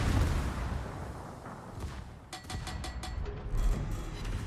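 Secondary battery guns firing at a ship in World of Warships, a rumbling run of booming, crackling shots under steady low ocean and engine noise, moderately loud and continuous.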